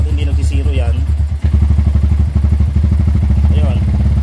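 Motorcycle engine revving through repeated throttle blips while a sensor diagnostic runs, loud and close, with a steady idle between the revs and someone talking over it.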